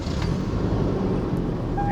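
A pickup truck driving on a road, with a steady low engine and road rumble heard from inside the cab, moderately loud and continuous with no talk.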